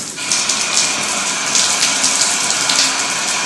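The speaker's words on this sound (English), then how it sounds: "we're going to go ahead and run this tub and make sure that that's working" A bathtub faucet running hot water into the tub during a home inspection, producing a loud, steady gushing rush that starts abruptly and continues without pause.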